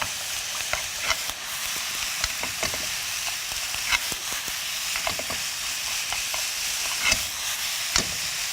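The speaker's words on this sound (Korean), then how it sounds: "팬에 둘러서 넣어주시면 간장이 살짝 타는 듯이 불에 닿으면서 약간 불맛을 낼 수 있거든요" Soy sauce poured around a hot wok for fried rice, sizzling and catching the heat as it is tossed, a steady hiss broken by scraping stirs and a few sharp clacks, close and moderately loud.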